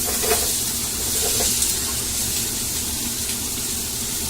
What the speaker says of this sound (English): I'm going to put M's onions in because her pan is ready to go. And you can hear the onions.